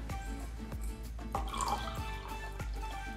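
Water trickles and drips into a small glass prepared for maranta plant cuttings, soft and close, with irregular plinks over a faint steady background.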